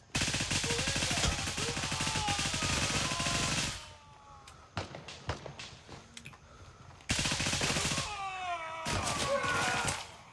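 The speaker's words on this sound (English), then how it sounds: "Shooting up 2 floors there." Automatic gunfire in Gray Zone Warfare rattles in rapid, close, loud bursts inside a multi-storey building. A sparse run of single shots follows, then another long sustained burst.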